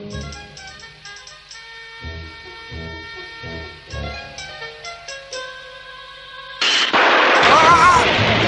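Animated space-western gunfire: a run of sharp, spaced cracks and bursts set against music, ending in a loud, sustained blast of noise.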